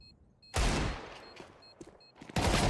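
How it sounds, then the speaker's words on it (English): Desert Eagle pistol shots in Counter-Strike during a CCT 2026 Europe esports match, sharp loud blasts at the start and end with quieter game noise between, no talk. "Makes a frag with the Deagle, not so much against Goody though."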